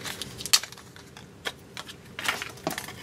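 Paper pieces being cut out by hand for a handmade Christmas card, giving a few short, separate crisp snips and rustles spread over a quiet background, with no one talking.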